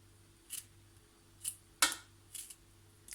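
A knife cuts fresh strawberries into pieces for a no-bake strawberry Speculoos cake, five sharp close taps against a board at irregular intervals over quiet room hum.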